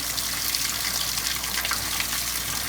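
Water rushing steadily through piping after an outlet ball valve is opened on a lab test rig with a 90-degree elbow, a constant close hiss of flow with no talking.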